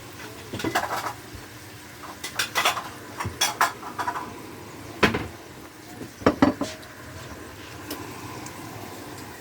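Cutlery clinks and scrapes against plates and dishes while bacon quiche with parmentier potatoes is plated up, giving a run of sharp, irregular clatters and taps at close range with short pauses between them.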